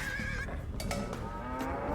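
Livestock call in Age of Empires II, a drawn-out animal bellow with a brief tonal cry and a few short clicks over game background, no talk.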